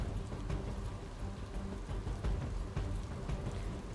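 Steady, persistent rain pours down in Lakhani, Banaskantha, a dense continuous hiss with low rumbling and scattered heavier drops, no voices present.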